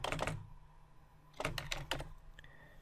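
Quick bursts of typing on a computer keyboard, with a cluster of keystrokes, a pause, then another flurry of clicks, close and fairly quiet.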